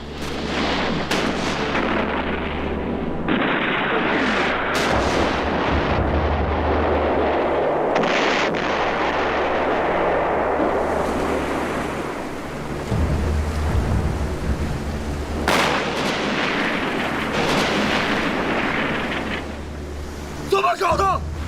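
Naval artillery from enemy battleships in a war film about the First Sino-Japanese War fleet battle: heavy booms and rumbling blasts over a dense, roaring sea-battle din, continuous and loud, with voices mixed in.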